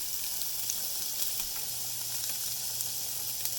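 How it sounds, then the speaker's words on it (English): Butter melts and sizzles in a pan where rice is cooking for a tofu burrito, a steady, soft, hissing crackle without talk. "Put a little bit more butter in there. Let that melt down."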